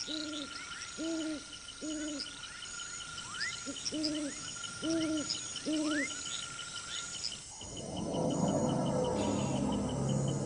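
An owl hoots in a steady run of paired calls over a dense night chorus of insects and frogs in the Amazon rainforest, the hooting stopping partway as the background swells into louder rustling noise.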